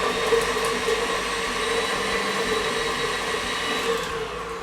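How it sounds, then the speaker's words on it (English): A steady electric mixer whirring as it blends room-temperature butter for chewy double chocolate cookies, holding a continuous, even motor drone throughout with no talking. "So I'm just blending that up, just kind of breaking it up."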